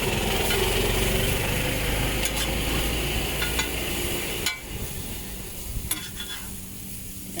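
Fried noodles sizzling in a hot pan at a Bulacan food stall, with a loud steady hiss and stirring scrapes up close. The sizzle drops quieter midway, and a few sharp utensil clinks punctuate it.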